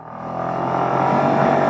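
A 2025 Suzuki Access 125 scooter pulls away at full throttle, its engine note climbing in a steady, loud, close drone that builds over the short stretch, with no voices.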